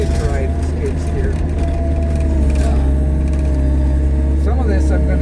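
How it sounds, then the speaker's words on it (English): Skid steer engine running steadily while plowing fluffy snow, a loud continuous low drone with mechanical clatter and some voice-like sounds over it, close by throughout. "If I'm gonna ride the skid steer, you get to ride the skid steer."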